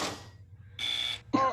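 Electronic beeps from a party video game as the timer runs out, a few short tonal bleeps separated by brief silences, ending in a sharper chime.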